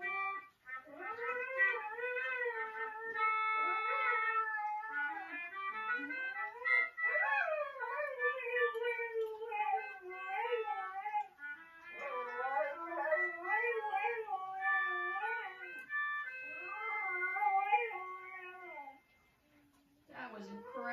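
A dog howls and yips in a long, wavering, pitch-sliding line, blending with a sustained reedy melodica melody that runs throughout, fairly close and clear.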